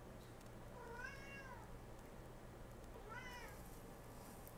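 Greg the cat lets out two drawn-out meows with a growly edge, close to the microphone, over a low steady hum, with a pause between the calls.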